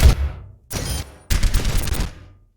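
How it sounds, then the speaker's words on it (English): Soldier 76 firing his rifle and Helix rockets in Overwatch on the Nepal map: three loud, close bursts of rapid gunfire separated by brief gaps, with no talk. "the missile that you do, the Helix rocket, does different kinds of damage than your bullets"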